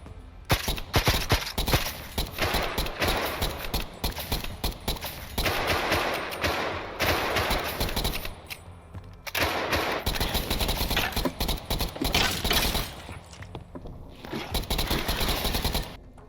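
Sustained rapid gunfire from a space-marine shooter video game, Beyond Cosmo, rattles in dense automatic bursts with brief pauses, loud and continuous throughout, with no talking.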